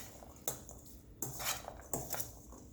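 A spoon stirs and mixes ingredients in a bowl while someone cooks, giving three sharp clinks against the dish with soft scraping between them. The sounds are close, quiet and heard alone.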